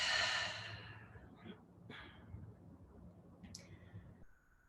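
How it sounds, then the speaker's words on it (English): Slow breathing during a guided meditation: a long, airy exhale that fades, followed by a quieter breath and faint soft clicks, close and gentle in a still room without speech. "Breathe her in. Breathe her out."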